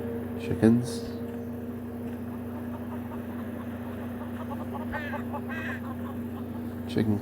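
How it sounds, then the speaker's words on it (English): Chicken clucking in Neverwinter Nights, a few short squawky clucks near the start and end plus fainter chirps midway, over a steady low ambient hum, with speech-like murmur in the mix. "Chicken clucks moronically at you."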